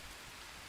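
Rain falling in the jungle survival game Green Hell, a steady soft hiss of drops that stays even and faint throughout the short moment, with no voices.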